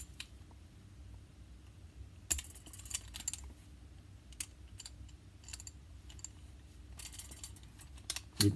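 A 1911 pistol being handled and opened, with a run of small metallic clicks, taps and scrapes, some sharp and close, spread irregularly across a quiet background.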